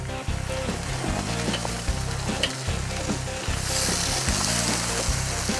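Chicken halves sizzle loudly and steadily on a Weber grill just after being flipped, a close, continuous crackle with a low rhythmic thumping beneath it.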